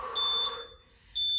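A workout interval timer beeps in two bursts of high, steady electronic tones separated by a short pause, sounding close and clear with no voices.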